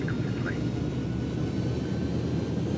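Airbus A300 engines in X-Plane 11 hold a steady, dense roar at takeoff thrust, a constant broadband rush with no breaks.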